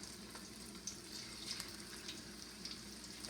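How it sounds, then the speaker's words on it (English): Fish sizzles quietly in hot oil, Trini style, with a steady, even crackle and small bright pops. No one speaks over it. "So what we're gonna do, we're gonna fry these fish"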